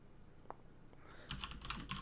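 Keys clatter on a Cooler Master keyboard, a quick burst of close, soft typing clicks in the second half after a near-silent start.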